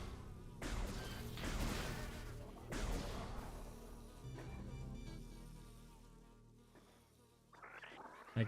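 A war wasp in Metroid Prime Remastered gives a loud, close insect buzz that swells and fades in waves over several seconds, with a few game thuds and no talking.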